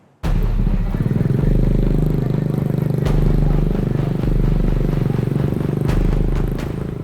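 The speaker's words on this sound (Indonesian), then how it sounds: "Pengendara motor ini langsung tancap gas meninggalkan rekannya" A motorbike engine roars loud and close as the rider guns the throttle and speeds off, leaving a partner behind; the steady heavy drone stays strong throughout, with a few clattering knocks over it.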